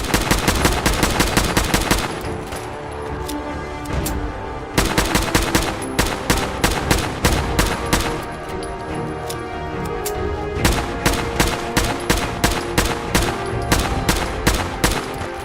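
Rapid automatic gunfire in the Fallout video game, loud sharp shots in fast repeated bursts with brief pauses between volleys, continuing throughout with no talking.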